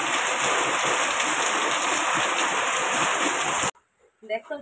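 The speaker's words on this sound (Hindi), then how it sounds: "आज देखंतु की वर्षा" Heavy rain pours steadily as a dense, loud hiss for several seconds, then cuts off abruptly, followed by faint voices talking.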